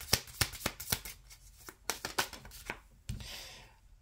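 Tarot cards being shuffled by hand, a series of crisp riffling snaps in uneven bursts, then a short softer rustle as the deck is cut, close and clear.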